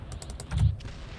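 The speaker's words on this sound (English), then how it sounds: "this sound effect is the small explosion sound effect" A small explosion sound effect: a quick run of sharp crackling pops followed by a low thumping burst, close and moderately loud, then fading into a faint tail.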